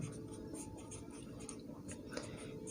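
Chalk or marker scratching across a board during a class 10 maths lesson on circles and tangents, a faint, quiet run of short strokes and taps in a steady writing rhythm.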